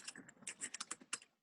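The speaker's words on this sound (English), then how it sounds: "Someone's typing." Quick bursts of keystrokes on a computer keyboard during an online conference call, an irregular run of about a dozen close, crisp clicks that trail off to quiet at the end.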